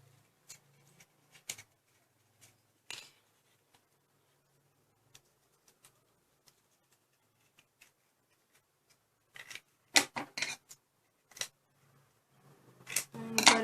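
Scissors snipping a paper action figure free, scattered sharp cuts and paper rustles amid quiet pauses, with a busier cluster of snips near the end, close up and with no talk.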